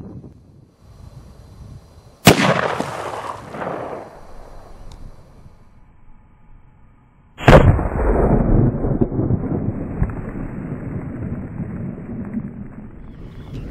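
Two sharp, loud AR-15 rifle shots ring out outdoors about five seconds apart, each cracking suddenly and trailing into a lingering rumble and noise.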